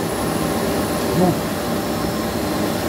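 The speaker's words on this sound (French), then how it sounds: "ça démarre l'aspirateur." A Bosch cordless vacuum cleaner, switched on through a GCA/GCT 30-42 wireless control module, runs with a steady loud whir throughout while someone speaks briefly over it.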